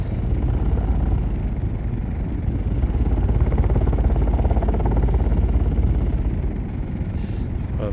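A continuous, even engine drone with a fluttering mechanical texture from an ornithopter flying in Microsoft Flight Simulator, loud and steady throughout with no breaks, and speech audible underneath.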